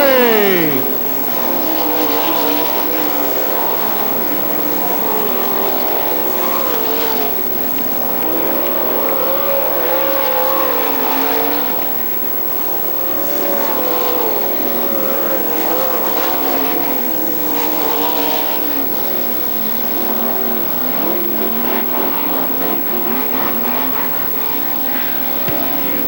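Race cars at Billings Motorsports Park during a feature race, engines roaring loudly and continuously as they pass and circle the track, with the pitch wavering up and down, under a track announcer's voice over the PA.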